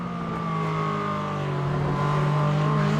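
A McLaren sports race car roars past at full throttle in a pro-am race, its loud, close engine note rising steadily as it closes in and passes.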